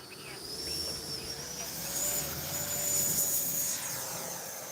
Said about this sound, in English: Alright guys, let's take off flaps in, let's go.